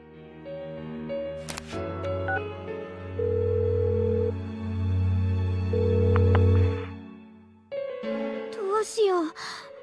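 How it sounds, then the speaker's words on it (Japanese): An unanswered phone call in the video game Persona 4 Golden, heard as steady electronic ringing tones for several seconds before a short break and a brief burst of warbling, chirpy game sound. "里中、天城に電話。"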